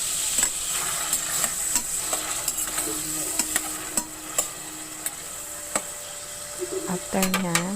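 Tomatoes sautéed in a pan for a Filipino ginisang ampalaya dish, giving a steady close sizzle with scraping stirs and spatula clicks against the pan; a brief rattle near the end.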